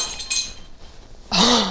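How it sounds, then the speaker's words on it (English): A glass jar breaks indoors at close range, a short clink early on followed after a lull by a loud, bright crash of shattering glass with a lower ringing tail. "I just broke a glass jar."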